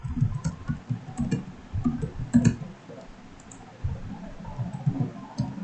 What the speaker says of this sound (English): Next name I am typing.